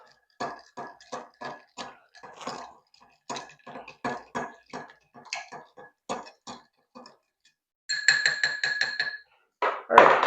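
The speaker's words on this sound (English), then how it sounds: "Give this a stir." A whiskey cocktail is stirred in a mixing glass, with rhythmic clinking and rattling of ice against glass, then a brighter ringing clink near the end.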